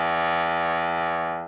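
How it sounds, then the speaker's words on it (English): A low E played on a trombone, rebuilt from a stack of pure sine waves, sounds as one steady, loud, buzzy sustained tone with many evenly spaced harmonics, holding alone for about a second and a half before fading slightly. "this is actually trombone sound, a low E on a trombone"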